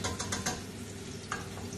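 Pork meatballs browning in a pan in their own rendered fat, giving a steady close sizzle with a few brief scraping or stirring clatters near the start and one near the end.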